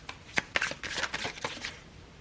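Tarot cards being shuffled by hand, a run of crisp papery riffles and flicks at close range, several sharp bursts with softer rustling between, no talking.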